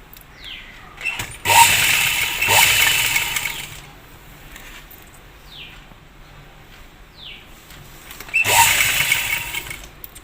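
A sewing machine stitching fabric for a baby frock runs in short loud bursts with pauses between, close by, its rapid motor whir starting and stopping.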